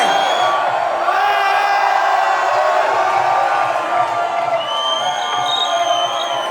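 Concert crowd at a show in Zrkadlový háj, Bratislava, screaming, whooping and cheering in a loud, sustained roar with high yells rising above the din throughout.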